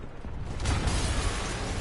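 A dense, rumbling explosion in a Spider-Man video game, with broad, sustained noise that swells after the first half second and stays loud to the end, with no voices.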